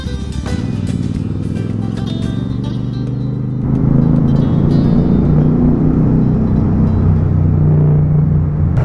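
Royal Enfield Super Meteor 650 motorcycle engine on a 2025 mountain ride toward Chopta and Tungnath, a steady close rumble with low engine tones, swelling louder and rougher partway through as the bike pulls harder.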